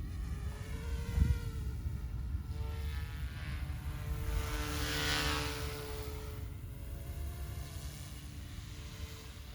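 An OMPHOBBY M2 Explore RC helicopter in flight, a steady buzzing rotor drone that swells and fades as it passes nearby, with a brief thump early on.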